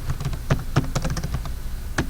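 Keys clatter on a computer keyboard in a short irregular burst of soft taps, close and fairly quiet, with no talking.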